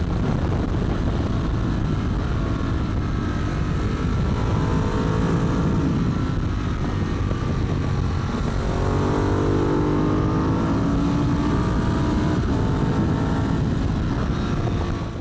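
A Ducati 996 SBS motorcycle races at full throttle, its engine a loud, sustained roar with rising and falling pitch across a long continuous pass, close and unbroken with no voices.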